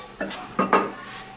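Real metal pots and cups are handled in a kindergarten classroom play kitchen, giving three distinct clinks and clatters with short ringing tails, close and moderately loud, against a quiet room background.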